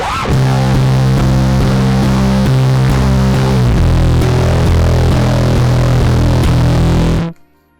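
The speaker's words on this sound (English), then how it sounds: "I'll just hit the open E string and it's super thick and just massive" A thick, heavily distorted open E string on a bass through fuzz drones loudly as one massive sustained wall of sound, then cuts off abruptly at the end.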